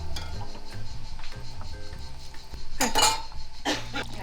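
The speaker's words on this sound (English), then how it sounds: "Stefania uses a whisk to break it up a bit" A whisk scrapes and clinks against a pot, breaking up bread and tomato as they simmer. Metallic rattles and knocks come in irregular bursts, with a louder clatter near the end.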